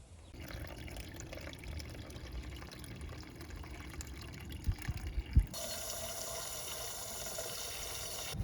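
Water rushes steadily as an old rusted van's cooling system is flushed, a continuous gushing flow with a few knocks near the middle, then a brighter, stronger stream toward the end.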